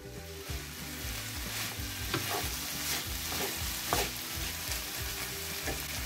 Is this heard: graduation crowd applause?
no